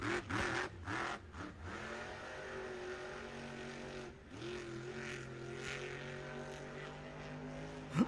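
A monster truck engine revs hard at a Monster Jam stadium event, rising and falling in pitch with a few sharp throttle blips before holding a steady roar, heard from a distance through crowd ambience.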